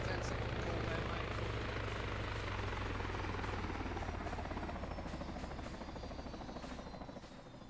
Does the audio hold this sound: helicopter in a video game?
yes